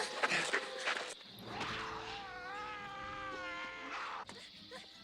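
Cats yowl and caterwaul in a horror film, with drawn-out wavering meows swelling loud and close over a crowd of other cat cries, a brief thump near the end.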